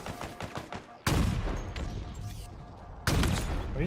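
A rocket launcher fires in the video game Halo Infinite, with two sudden loud blasts that each trail into a noisy rumble, following quieter bursts of gunfire.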